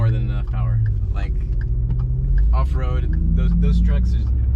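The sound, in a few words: Ford Raptor truck engine driving off-road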